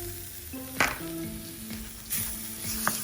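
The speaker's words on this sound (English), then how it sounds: "Fry that up lightly." Garlic, chili and hoisin sauce fry lightly in a pan over moderate oil, a steady close sizzle with a few sharp clinks of a utensil against the pan.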